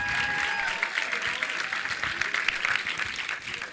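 A live audience at a Philadelphia Q&A for the drama series Snowfall breaks into loud, sustained clapping and cheering that fills the room continuously, while a voice talks faintly underneath.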